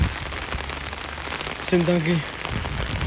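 Steady heavy rain patters loudly on surfaces all around, close and constant. Someone speaks briefly over it, his voice partly masked.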